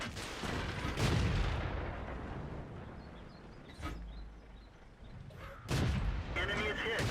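Tank cannons fire in World of Tanks, giving several heavy booming shots at irregular intervals, with a deep rumble lingering between blasts.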